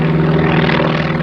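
A propeller aircraft flies a display at the Habsheim airshow, its engine a steady, loud drone with a strong low hum held evenly throughout, no voices over it.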